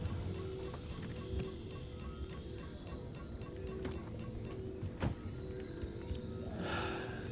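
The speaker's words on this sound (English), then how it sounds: "that alarm is the alarm for running out of fuel" A low-fuel warning alarm sounds in the driving game Pacific Drive: a steady, repeating electronic tone pulsing at a regular rhythm over a dense bed of ambient and engine noise, with a brief rustling burst near the end.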